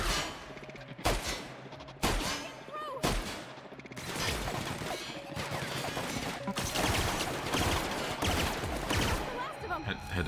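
Weapons in The Outer Worlds fire in dense, rapid volleys, with sharp repeated shots and thuds layered among other busy in-game sounds over a sustained stretch.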